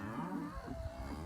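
A cow on a farm lets out a low, drawn-out moo, close and fairly loud, with no talking over it.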